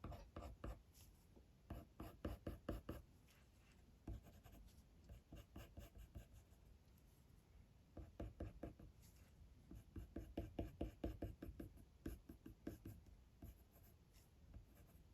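Coloured pencil shading fur in a spaniel drawing, the soft, quiet scratch of the lead on paper repeating in rhythmic bursts of quick strokes with short breaks, close and faint.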